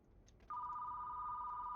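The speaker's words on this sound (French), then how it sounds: "Non, non, non, c'est le téléphone." A telephone rings in the HellMart horror game with a steady two-tone electronic trill. It starts suddenly after a brief click and holds, moderately loud, over quiet room hiss.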